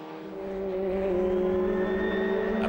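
Vauxhall VX220 race cars contest a position at Silverstone, their engines a loud, sustained whine that swells as they come closer and holds a rising tone, with no talking over it.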